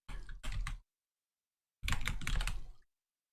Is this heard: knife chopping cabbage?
no